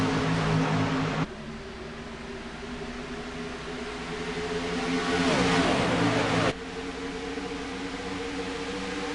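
NASCAR race cars at Fontana in iRacing, several engines roaring close together in a steady loud drone, with a passing car's pitch sweeping past midway before the tone drops back to a constant engine hum.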